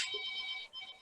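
A mobile phone rings out in an audience, a brief bright electronic ringtone heard at moderate distance for about a second.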